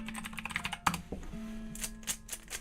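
Rapid clattering keystrokes on a computer keyboard, close and fairly steady, with a short burst of louder taps near the middle over a low steady hum.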